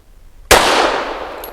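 A single sharp gunshot from a Century Arms Centurion 11 pistol loaded with Blazer ammunition, loud and close, with a long ringing decay that fades slowly afterward.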